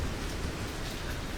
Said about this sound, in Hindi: मूसलाधार बारिश इस समय सभी जगहों पर हो रही है